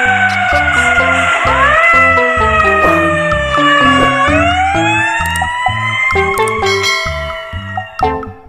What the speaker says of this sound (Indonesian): Wow, ternyata ada mobil pemadam kebakaran.